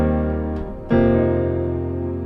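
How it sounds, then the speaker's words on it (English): LA Custom C7 Wash piano patch with reverb: a soft sustained chord decays, then a fresh chord strikes and rings out with a long washy reverb tail, alone without talk. "I'm gonna go ahead and use this LA Custom C7 Wash. I love this piano sound. It sounds like this."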